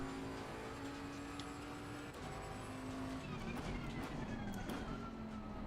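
A race car slides around a corner in a VR racing game, with a steady engine drone and a rising squeal of tires as the car loses traction, loud and continuous.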